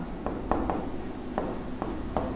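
Chalk or marker scratching across a classroom board during a Class 11 chemistry lesson on solids, liquids and gases, a run of short rubbing strokes with small taps, close and fairly steady, no talk over it.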